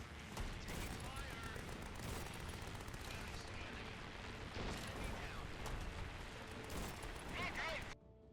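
Sustained gunfire rakes a steampunk mech in the game Grit and Valor, a dense, continuous barrage of shots and impacts that stays loud throughout, with a voice speaking over it before it cuts off sharply near the end.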